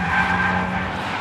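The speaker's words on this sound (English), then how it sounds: "Right, first up, the BMW. 343 horsepower rear-wheel drive, 160 kilograms lighter than the Audi." A 343-horsepower rear-wheel-drive BMW M3 driven hard around a test track, its engine note steady and loud throughout as the tyres skid and squeal through a corner.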